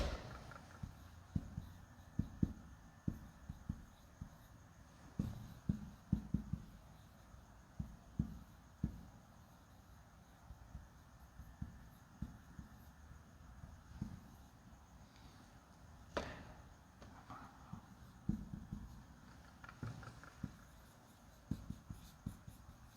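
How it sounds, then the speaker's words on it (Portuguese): A pen writes by hand on paper, giving soft scratchy strokes and frequent light taps in an irregular rhythm that carries on for over twenty seconds in a quiet room. "deixa eu escrever aqui"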